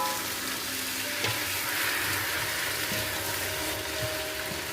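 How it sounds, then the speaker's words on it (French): Vegetables with garlic powder sizzle steadily in a hot pan, with a few soft scrapes and clinks of a utensil stirring them, close and continuous. "Je remue un tout petit peu."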